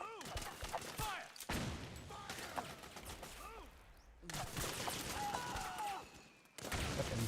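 Bursts of gunfire from the video game Metal Gear Solid 4: Guns of the Patriots, sharp repeated shots in clusters broken by short gaps, loud and close, mixed with other game effects.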